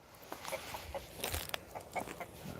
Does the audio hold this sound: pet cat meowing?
no